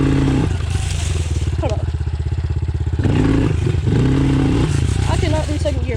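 A motorcycle revs hard in second gear while being lifted into a wheelie, its engine droning loud and close with rising surges and a clattering pulse, while a rider speaks briefly over it.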